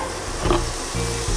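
Streaky bacon sizzling as its fat renders in a hot, dry pan for carbonara, a steady close crackle and hiss with low bubbling underneath, fairly loud and continuous with no voices.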